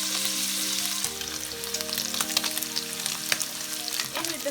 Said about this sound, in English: Just put the pork belly back in the pan with some oil.